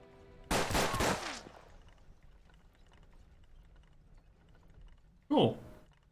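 A fanned revolver firing three rapid shots in the Western tactics game Hard West, heard as a loud clustered burst near the start, followed by quiet and one short sharp report near the end.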